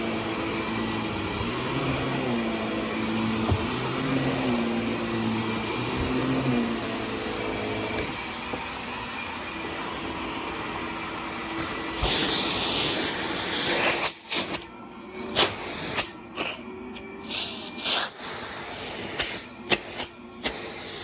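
A 1990s Filter Queen Princess III vacuum cleaner runs on carpet with a steady whirring hiss, then gives way to uneven bursts and gaps of rustling and handling noise.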